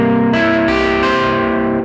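An electric guitar played through a distortion effect sounds a blues dominant seventh note, a B flat a full step below the root. The sustained, buzzy tone is re-struck twice and rings loud and close with no talking.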